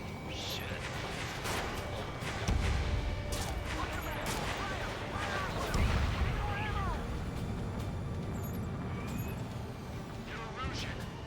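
Ace Combat 7 aerial combat with dense gunfire and booming explosions, rumbling low blasts and rattling bursts under continuous battle noise, while voices talk over the chaos.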